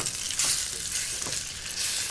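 Bok choy stir-fries in a wok with oyster sauce, a close, steady hiss and sizzle with no talking.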